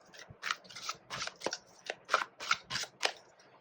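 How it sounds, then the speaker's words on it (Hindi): Tarot cards slid and drawn from a deck during a Hindi reading, a run of crisp, close papery snaps and flicks in an uneven rhythm, about eight quick strokes, with no talking. "एक और कार्ड निकालते हैं यहाँ पे"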